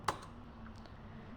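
Ctrl+S pressed on a computer keyboard: a single close, crisp key click at the start, followed by quiet room tone with no speech.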